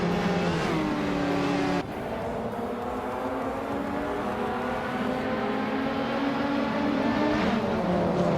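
A pack of race cars in a racing video game launches at the start of a race, engines revving hard and climbing in pitch, then holding a loud sustained roar throughout.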